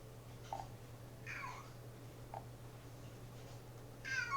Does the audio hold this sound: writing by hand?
no